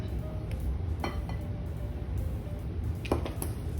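A utensil stirs a sugar mixture for cookies in a bowl, giving faint, scattered clinks and taps against the sides over a low background hum, close and quiet.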